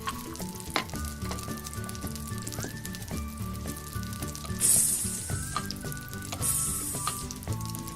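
A toy frying pan holding a Play-Doh burger patty gives off a steady crackling sizzle that runs continuously, fairly loud and close, with brighter hissing bursts partway through and no talking.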